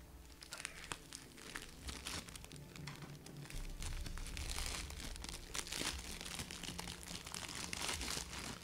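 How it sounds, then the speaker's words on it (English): Close crinkling and crunching of cookies being eaten, a steady stream of small crisp bites and rustles, quiet and intimate with no talking. "Do some ASMR for you guys with my cookie inching or cookie munching sounds."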